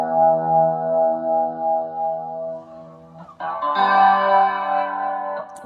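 An electric guitar's E string rings out through a Boss ME-90 into a Roland Jazz Chorus amp, first a sustained chorused tone and then a brighter, shimmering second strike, close and clear with no talking.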